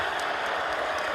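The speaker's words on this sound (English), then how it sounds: "A lot of Knicks fans here too tonight cheering on that play" A basketball arena crowd of Knicks fans cheers and applauds a three-pointer against the Wizards: a steady, dense roar of many voices and clapping heard from a distance, with no commentary over it.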